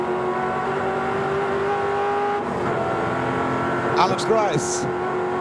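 A 1987 Bathurst 1000 race car with a suspected diff or gearbox fault idles and rolls slowly down toward the pits, engine droning steadily near, with a brief rev and tyre noise late on, under a commentator's voice.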